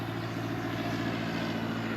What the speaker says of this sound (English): Another airplane's going over.